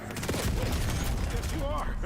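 Dense gunfire in the video game Black Ops 6, rapid continuous bursts and booms layered thick throughout, with voices speaking over the battle.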